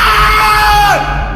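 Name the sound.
man's scream sound effect in horror story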